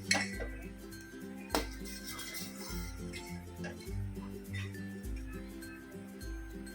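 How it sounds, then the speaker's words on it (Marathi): A spoon stirs butter melting into ghee in a pan, giving scattered metal clinks and scrapes against the pan over steady background music. "थोडं थोडं तूप बनायला सुरुवात झालेली आहे पण सतत ढवळत राहायचं आहे"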